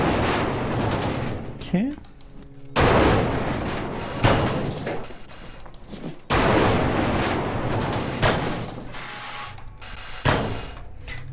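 A supercharged weapon fires in the warship-salvage game Ship Graveyard Simulator 2 with dense, sustained bursts of loud, harsh blasts that break off briefly and resume, while a voice speaks a word over them.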